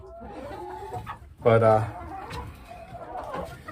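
Chickens cluck inside a dirty chicken coop in late winter, a loud burst of clucking rising midway through a man's speech, with quieter rustling and bird sounds around it.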